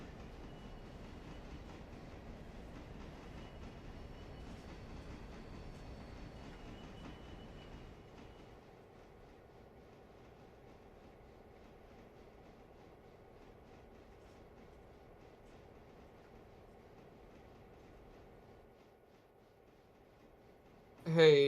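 A pulpwood train in the video game Railroader rumbles along steadily with a low, droning rattle that eases quieter partway through, ending with a brief loud burst.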